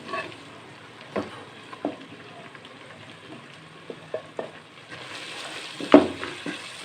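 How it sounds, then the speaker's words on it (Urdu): Spices (turmeric and black pepper powder) frying in a pan for a foul tameez bean dish, giving a soft steady sizzle with a few scattered stirring knocks, fairly faint and alone. "اس کو اچھی طریقے سے بھونیں گے مسالہ جات کو"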